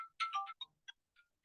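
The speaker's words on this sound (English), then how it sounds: "What a moment for my phone to go off" Mobile phone ringtone chiming in a short melodic burst of bright tones, then a few fainter isolated notes trailing off in an otherwise quiet room.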